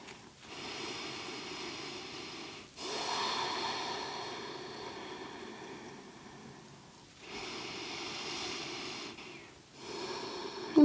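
Slow, deep breaths during a yin yoga hip stretch, long steady inhales and exhales rising and falling in soft waves, close and fairly quiet, with short pauses between them.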